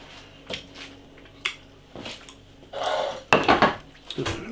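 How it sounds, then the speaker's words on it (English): Canned baked beans from an all-day breakfast tin tipped into a pan, with several clattering metal knocks and scrapes of pots and cutlery close by, separated by short quiet gaps. "Some more beans in a pan."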